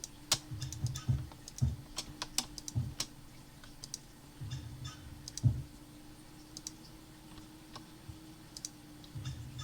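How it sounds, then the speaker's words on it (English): A computer mouse is right-clicked rapidly in irregular bursts of sharp, close clicks, with soft low thumps of the hand on the desk between them and no talk. "I'm right clicking like a madman."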